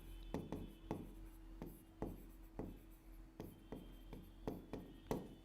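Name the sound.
writing the name of a book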